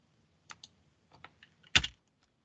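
Someone types on a computer keyboard while writing Python code in an editor, a few sparse, quiet key taps, then a louder clustered pair of strokes near the end over near-silence.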